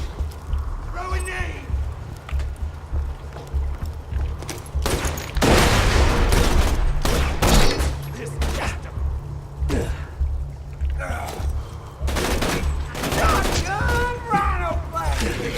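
Axton's gun fires in Borderlands 2 as bursts of loud, sharp shots that come in clusters, separated by quieter gaps, with voices speaking in between.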